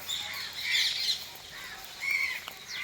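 Crows and parrots squawk and call outdoors near a riverbank temple, harsh repeated cries overlapping at moderate distance with steady ambient background.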